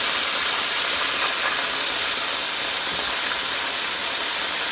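Chicken strips sizzle steadily in vegetable oil in a pan, a loud, constant broadband hiss of frying with faint crackle throughout and no voices.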